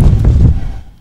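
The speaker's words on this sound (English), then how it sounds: "Those explosions. I really like them." A single booming explosion in an indie video game, a loud low rumble that decays over about a second with no voices.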